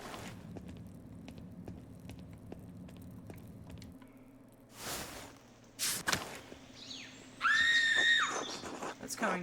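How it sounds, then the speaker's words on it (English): In the video game Pentiment, screams ring out from the chapter house: shrill, wavering cries near the end that follow footsteps, thuds and quiet game ambience, mixed with a voice. "The screams are coming from the chapter house."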